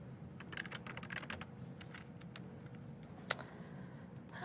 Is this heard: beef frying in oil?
no